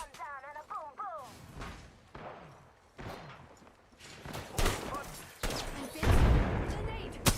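Grenade blast in a video game battle, a heavy booming burst near the end amid scattered gunfire and thuds, with people talking over the action.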